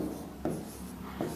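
Marker strokes rub across a board during an English lesson, two short scratchy bursts standing out against a steady room background with no speech.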